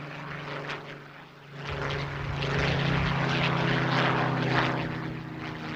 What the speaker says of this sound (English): an aeroplane that goes back 46 of those 75 years of British air defence, a Spitfire Mark 5B of the RAF's Battle of Britain Memorial Flight